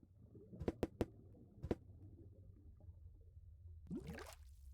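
In the game Deponia, a small fish is dipped into liquid with a wet gurgling squish near the end, after a few sharp clicks earlier, faint and close with no talk.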